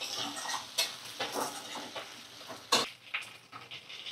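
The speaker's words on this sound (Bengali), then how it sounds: "এই যে রান্না হচ্ছে, একটু এটা পেঁয়াজ আলু এখন ভাজা করছি।" Onion and potato fry in a pan, a steady crackling sizzle broken by scraping stirs and clinks of a spatula against the metal, close and continuous without talk.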